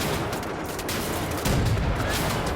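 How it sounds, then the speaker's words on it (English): An anti-aircraft gun firing on Nazis in the video game Wolfenstein: The New Order, a continuous loud pounding barrage of heavy rapid shots that grows heavier partway through, with no talk. "Just gonna blow up Nazis with an aircraft gun."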